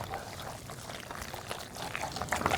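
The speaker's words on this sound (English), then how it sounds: "can we all be quiet for a second and just stir the mac and cheese?" Mac and cheese being stirred in a pot, giving a soft wet, gloopy sloshing up close that thickens toward the end, with faint background noise.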